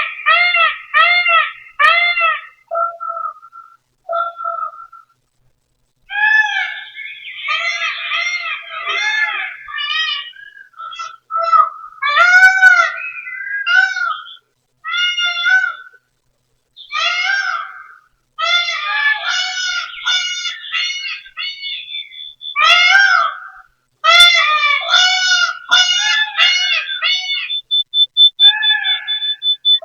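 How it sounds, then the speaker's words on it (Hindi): Various birds in a peacock-crowned setting call and chirp, a busy overlapping chorus of harmonic whistles, trills and squawks in repeated bursts, fairly loud and close, with no talk. "भिन्न भिन्न पंछियों की आवाज सुनिए।"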